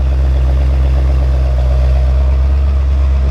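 A Dodge Dart's engine idles steadily in a driveway at operating temperature, a smooth, constant low rumble close by with no voices.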